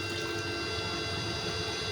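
Hot water being poured over pitted dates, a steady, even rushing stream that stays level from start to end.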